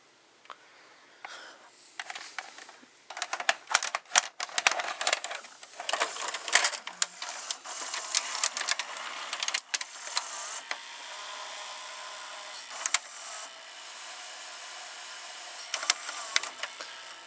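A Toshiba M659 VCR mechanism loads a tape with a series of close mechanical clicks, whirs and ratcheting clatters, intermittent over a quiet background.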